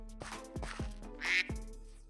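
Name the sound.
duck quacking in Minecraft video game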